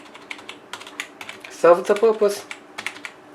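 Fingers type steadily on a cheap 1.5k rupee non-mechanical keyboard, producing soft, quick, muted taps rather than clicks, with a brief spoken remark over the keystrokes.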